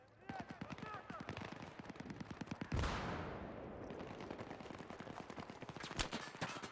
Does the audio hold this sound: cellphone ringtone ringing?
no